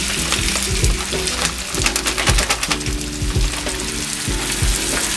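Vegetables hit a hot pan with spice and canola oil for a tofu stir fry, a loud continuous sizzle with rhythmic stirring scrapes and clatters, close up and without speech.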